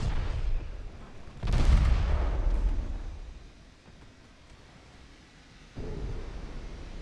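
Naval battle video game torpedo from a stern launcher striking a cruiser, a deep booming explosion that swells and rumbles away, followed by a second heavy thud.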